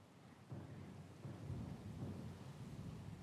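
Stormy weather in the fantasy role-playing game Pillars of Eternity II, with a deep rolling rumble of thunder and steady rain hissing throughout, swelling louder after a brief quieter start.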